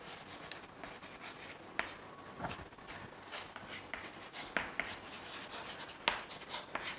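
Chalk or marker writing on a board during a Class IX math lesson, with steady faint scratching strokes and occasional sharper taps heard in a quiet room.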